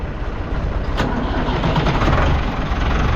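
A 1086 tractor on a farm cranks over with the key and catches into a loud, rough, steady engine rumble close by, with no talking.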